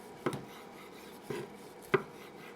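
A knife cuts through cooked baby back pork ribs on a board, giving three brief crisp crunching strokes spaced about a second apart over a quiet background.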